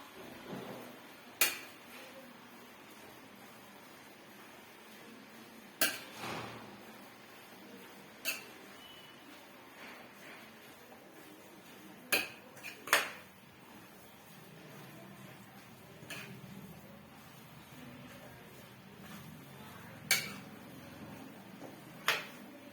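Grated carrots are stirred and roasted in a pan for gajar ka halwa, with soft continuous sizzling broken by scattered sharp scrapes and clinks of the spoon against the metal, quiet and close.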